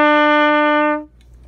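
A trumpet sounds the note E, fingered with the first and second valves, as one steady, clear sustained tone of about a second that stops cleanly, leaving quiet room noise.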